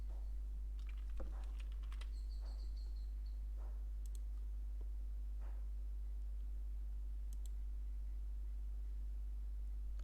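Scattered keystrokes on a computer keyboard, a handful of soft, sparse clicks spread over a quiet background hum, close to the listener with no voices.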